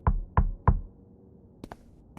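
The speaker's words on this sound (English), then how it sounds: "I heard a knock at the door and I opened it" Three firm knocks on a door in the video game Dispatch land evenly spaced and close, followed by a couple of lighter taps after a short pause.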